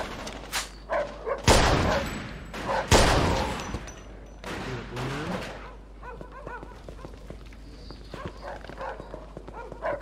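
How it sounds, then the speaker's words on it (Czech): Bursts of automatic machine gun fire in the Mafia 2 video game, loud close volleys early on, then scattered shots and clatter with shouting voices in the background. "Hej, sedni za ten kulomet!"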